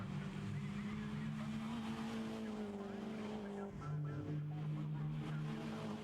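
Mini Challenge race cars at Castle Combe circuit roar past in a steady, loud engine drone, with a gear change midway and a second engine note rising as the pack follows.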